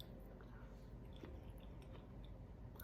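A fresh, sweet, tender snow pea from the garden is chewed with soft, moist crunching and squishing bites, quiet and close, with no talk.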